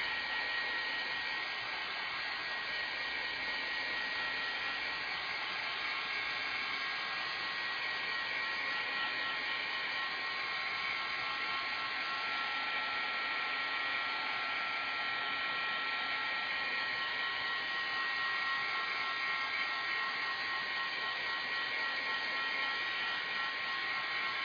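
A hair dryer blows steadily and loudly at close range to dry paint on a scrapbook page, a continuous even whoosh with no pauses.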